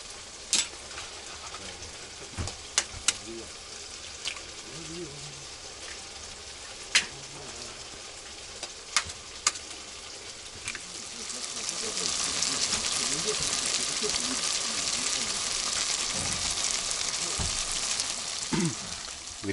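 Mushroom caviar fries in a pan at a taiga cordon on a frosty morning. A soft crackle with scattered sharp pops gives way to a steady, louder sizzle in the second half, and people talk nearby.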